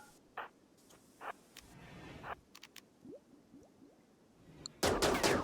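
Gunfire in the RimWorld colony game, during a fight with deserters: scattered short sharp shots with quiet gaps between, ending in a louder dense burst of shooting.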